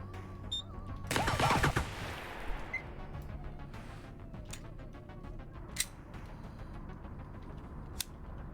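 Gunfire in the shooting game Receiver 2 bursts loudly for about a second, followed by a long quiet stretch broken by a few sharp isolated clicks and pops over a low steady background hum.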